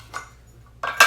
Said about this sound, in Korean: 이마트에서 구매한 스테인리스 양념통 2개를 넣어 봅니다